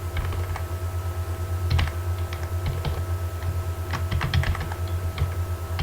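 Code being typed on a computer keyboard, a steady run of close, crisp key clicks with occasional heavier strokes, alone with no talk.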